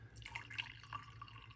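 Hot water poured over coffee grounds for a pour-over brew makes faint, close trickling and dripping with small irregular splashes, quiet and without talk.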